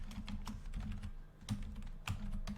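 Quick keystrokes on a computer keyboard as an email address is entered into a login form, light irregular clicks close by with a few sharper taps, no talking.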